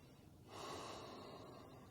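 A single deep breath during a Hatha yoga session, a soft swell of air that rises after a quiet pause and holds steady, close and gentle.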